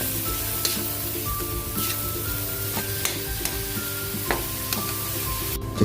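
Pork picadillo sautéing in a pan with pepper and liquid seasoning, a continuous close sizzle broken by scattered sharp scrapes and clinks of stirring, no talking.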